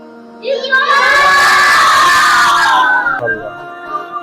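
A group of madrasa children shouts Eid Mubarak together in one loud, sustained cry of about two and a half seconds, close and unified, fading out at the end.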